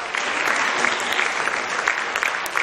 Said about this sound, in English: Please put your hands together for her.